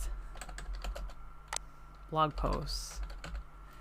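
Someone types on a computer keyboard, quick scattered key clicks tapping in bursts with short pauses, while a person talks briefly over a quiet room hum.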